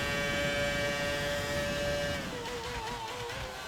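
Racing car engine from the F1 2019 video game, a steady high whine that holds a sustained pitch, then drops and wavers as cars overtake, loud and continuous with no talking.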